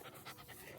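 A dog named Luna panting at a park, quick rhythmic breaths in a brief, close, fairly faint burst with no talking.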